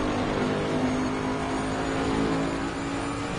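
Twin-turbo V8 of a Bentley race car at Mount Panorama during a 12-hour race, a loud steady engine roar held at high revs near the track, continuous throughout.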